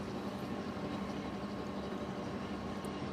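A roller coaster train pulls out of the station in Planet Coaster, giving a steady, dense rumbling roar that holds even and unbroken from start to finish, with no voices.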